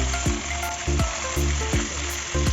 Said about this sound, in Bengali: কড়াইতে দিয়ে দিয়েছি সরিষার তেল। এবার মাছগুলো একে একে ভেজে নেব